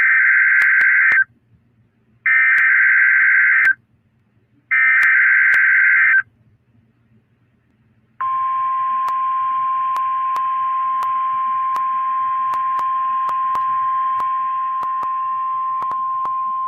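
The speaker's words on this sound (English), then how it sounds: "Preceding signal was a test of the public warning and alarm" Weather radio public warning and alarm test signal: three sharp, loud steady beeps of about a second each, followed by a long, continuous, piercing tone that runs to the end, with no talk.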